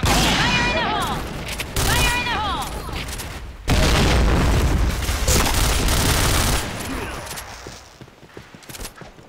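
Gunfire and a grenade blast in the shooter game Point Blank: rapid loud bursts of shots, then a sudden heavy explosion followed by sustained firing that fades into scattered, quieter shots.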